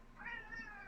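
A single short cat meow, close and fairly soft, rising and then falling in a brief tonal wail.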